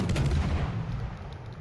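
Heavy battleship main-gun fire aimed at the Kaiser in a naval warship game: a single deep, booming blast that rolls off and fades over about a second and a half.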